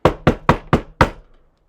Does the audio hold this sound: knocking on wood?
yes